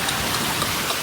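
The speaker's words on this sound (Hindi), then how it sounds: "बताओ जी इतनी तगड़ी बारिश का सबूत देख रहे हैं हम लोग।" Heavy rain pouring in a steady, dense hiss, loud and close throughout the short stretch, with no talk.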